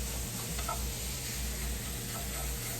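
A steak cooks in a browning pan with a steady, faint sizzle and a low background hum, close but quiet, with no talking.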